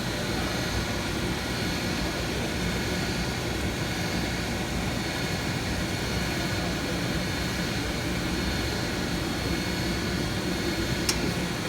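A school boiler's oil burner runs as a steady, loud, broadband roar with a low rumbling hum, continuous and unchanging for several seconds, with a single brief click near the end.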